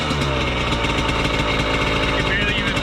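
A Suzuki RM125 motorcycle engine idles roughly, a steady loud drone with uneven pulsing throughout, with talk mixed in.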